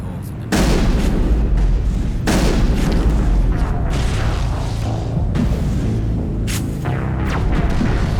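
Heavy booming turret fire in the Mass Effect video game, a loud sustained barrage of blasts with sharp cracks and bursts layered over battle noise.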